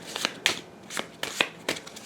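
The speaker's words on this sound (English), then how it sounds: "now I have to shuffle up because I only have 1 card" Deck of cards being shuffled during a tabletop card game, with repeated crisp riffling bursts and snappy slaps in an uneven rhythm, close and fairly quiet.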